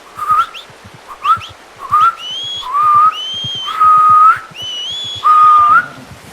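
A person whistling to call the horse in Red Dead Redemption 2: six loud, close whistled phrases, some short, some long and rising, separated by brief pauses, with faint clicks beneath.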